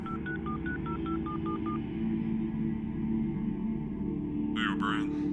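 A run of telephone keypad tones dials a number, about nine quick beeps in an even rhythm, followed by a steady hum and then a short burst of ringing or line noise at the end.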